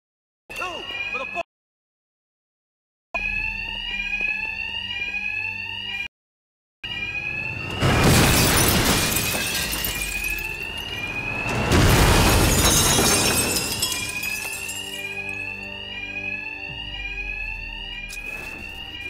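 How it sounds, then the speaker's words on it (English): Bank alarms ring loud and continuous in a Batman: Arkham Knight game scene, a steady repeating electronic tone broken by brief silences, with two heavy crashing bursts like smashing or explosions midway. "these thugs can't hear a thing over the alarms"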